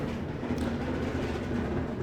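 Wheelie bin wheels grind over a gravel driveway in a steady, loud, rumbling crunch that carries on without a break and with no voices.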